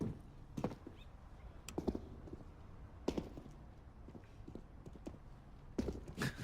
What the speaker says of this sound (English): Here's all the footsteps.